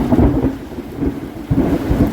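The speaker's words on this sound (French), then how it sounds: "Mais c'est une grosse tempête." Heavy rain pours down through a thunderstorm, with deep rolling thunder rumbling close and loud throughout, heard from a cyclist sheltering under a small church roof.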